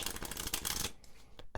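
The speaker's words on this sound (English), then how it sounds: "Now a riffle shuffle is the shuffle where I went like this" A deck of playing cards riffle-shuffled, a fast dense flutter of card edges for most of a second, then a couple of sharp taps as the halves are squared, close and alone.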